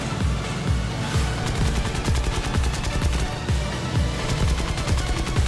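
Machine guns of a Hurricane Mk I fighter in War Thunder fire a long, rapid, evenly pulsing burst, loud and close, over a steady engine drone.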